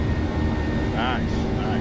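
Steady simulated jet roar from a PMDG 737-800 airliner taking off in Microsoft Flight Simulator, a continuous broadband rumble with a brief rising whine partway through.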